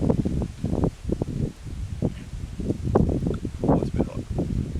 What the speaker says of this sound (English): the wind's starting to pick up a little bit now